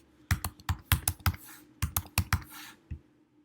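Keys clatter on a computer keyboard as a username is typed, two quick runs of crisp close taps with a short pause between, fading to quiet at the end.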